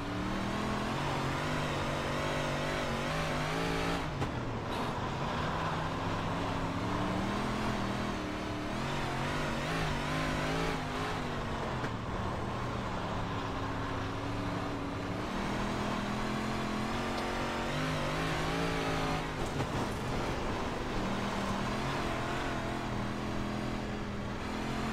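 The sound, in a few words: 358 modified race car lapping the Kern County oval in iRacing (video game)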